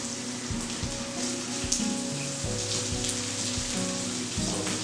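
Freshly cooked lentils seasoned with salt and pepper sauté in a pan, giving a steady, soft sizzle and crackle that runs throughout at low level, with no one speaking.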